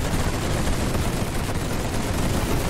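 Dense, continuous machine gun fire roars without pause from battlefield fighting in The Great War 6.0 video game, a loud wall of rapid overlapping shots with no voices.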